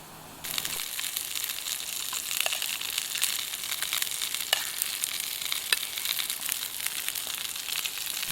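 Wine poured into a hot pan of foraged mushrooms cooking at a woodland bivouac bursts into loud, steady crackling sizzle that continues evenly up close, with no talk.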